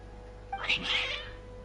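A single short, plaintive cat meow from the game Genshin Impact, clear and close, rising then falling over about a second against a quiet steady hum.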